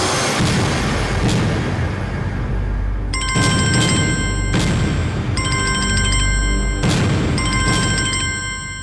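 A telephone rings after a number is dialled, giving repeated bursts of a bright electronic ring separated by short pauses over a loud, booming dramatic background, with no talking.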